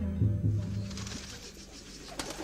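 Domestic pigeons coo in a low, throaty rolling rhythm, several soft repeated calls close by and fairly loud at first, then fading into quieter background rustle.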